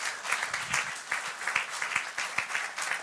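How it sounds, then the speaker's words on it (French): A church congregation applauds together during a worship service, a sustained wash of many hands clapping with rhythmic pulses, moderately loud and continuous throughout. "Acclamons très fort le Seigneur Jésus-Christ."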